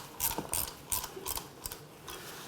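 Metal clamps being ratcheted and tightened down on a family injection mold, a series of quick clicking mechanical bursts in uneven rhythm, close and moderately loud, with no talking.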